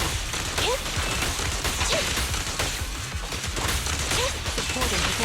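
Gunfire in the video game Zenless Zone Zero, a dense continuous barrage of shots and impacts filling the whole stretch, loud and busy, with faint game voices mixed in.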